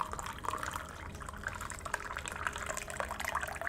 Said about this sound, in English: I'll just pour out some more tea.